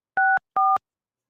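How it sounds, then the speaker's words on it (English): Two crisp touch-tone keypad beeps sound as a phone number is dialed, each about a fifth of a second long and separated by a short gap, then silence. "Let me just call McDonald's here"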